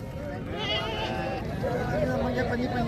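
Sheep bleat at a busy livestock market, wavering calls rising through steady crowd noise while people talk nearby.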